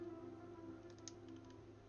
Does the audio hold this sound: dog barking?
no